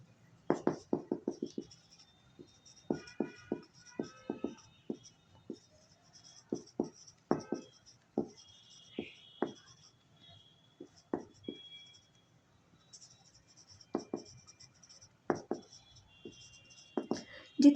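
A pen writes on paper in quick scratchy strokes and short bursts, close up, while someone speaks softly over the writing.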